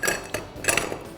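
Ice cubes clink and clatter into a glass of coriander cooler mocktail with mint leaves, a few sharp close knocks spaced irregularly.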